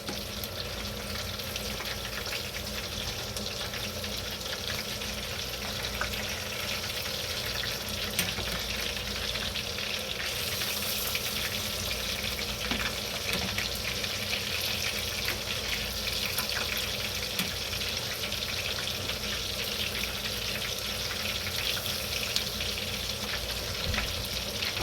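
Fish frying in a pan, with a steady close sizzle and crackle that holds evenly throughout at moderate loudness, alongside a faint background hiss and a few light stirring clicks.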